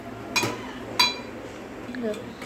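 Dishes clink as Maggi noodles are served onto a plate: two sharp metallic-ceramic knocks a moment apart, then a softer scrape, close and fairly quiet.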